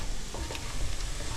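Garlic sizzles in a hot pan while being stirred, a constant close frying hiss with soft scraping strokes and no talking.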